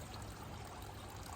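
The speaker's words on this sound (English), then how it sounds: "sort out that little running waterfall that you can see there" Water from a small garden waterfall runs continuously with a soft, even splashing trickle, faint and steady throughout, with no talking.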